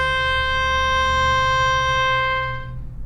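A violin bowing a single sustained note on the D string region, clear and steady with rich harmonics, then fading at the end; played alone without talk.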